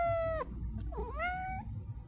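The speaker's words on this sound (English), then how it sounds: "I knew she would meow." A pet cat gives two clear, close meows in a quiet room, a long high-pitched call followed by a shorter rising one after a brief pause, with no talking.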